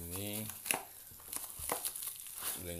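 Bubble wrap plastic rustles and crinkles as it is unwrapped from a package of lettuce seed tins, in several short crackling bursts close by, with a voice speaking at the start and end.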